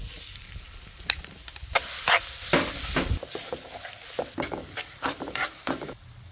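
Bagoong alamang, a Filipino shrimp paste, sizzles and fries in hot oil as a spoon stirs and scrapes the pan in uneven bursts, near and fairly loud, with no talking.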